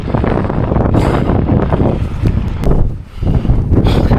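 Strong gusting wind of roughly 60 to 80 km/h in the Atlas Mountains, roaring and buffeting the microphone loudly and continuously, with one brief lull near the end.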